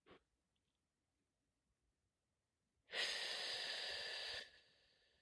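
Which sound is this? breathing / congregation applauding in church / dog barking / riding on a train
breathing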